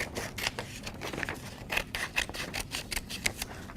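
Scissors cut across the fold of a paper square to make two tangram triangles. Crisp snips and scrapes come close by in a quick, uneven rhythm, with no talking.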